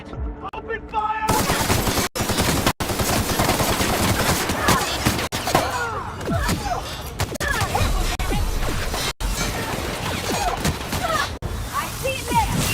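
Rapid bursts of gunfire crackle through a firefight in The Outer Worlds, shots repeating densely with brief gaps while voices call out under the noise.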